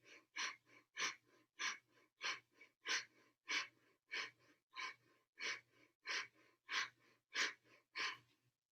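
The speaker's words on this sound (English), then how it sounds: "In and out through the nose" Rhythmic breathing in and out through the nose during a Kundalini breathing exercise, about fourteen even, fairly forceful breaths in a steady pulse, close and alone with no talking.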